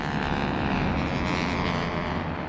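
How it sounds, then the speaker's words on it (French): Luftwaffe warplanes taking off for Dunkirk, a continuous loud propeller-engine drone that holds steady throughout with no voices. "les avions de la Luftwaffe décollent pour Dunkerque"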